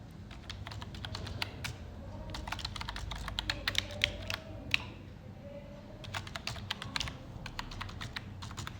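Rapid keystrokes on a computer keyboard while a captcha code is entered at a GST portal login, steady bursts of close clicking with brief pauses, no voices.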